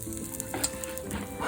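Pancake batter made from a homemade dried mix sizzles and fries in a hot pan, a steady crackling hiss with small spits and pops, close up and with no talking.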